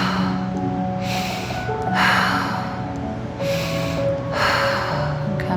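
Slow, deep breathing during a yoga stretching exercise for the feet, ankles, wrists, fingers and neck, four long audible breaths in a steady rhythm, close and clear with no talking.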